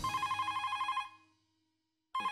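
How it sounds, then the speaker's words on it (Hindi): Telephone ringing while a call is placed in a Hindi TV comedy household scene: an electronic ring tone buzzes for about a second, falls silent, then starts again, clear and with no talk. "उससे अच्छा है कि अब्दुल को ही फोन करूं।"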